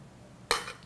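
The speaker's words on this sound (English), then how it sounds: "Knife on a plate." A single short, bright scrape of a knife dragged across a plate, sharp at onset and fading within a fraction of a second in an otherwise quiet room.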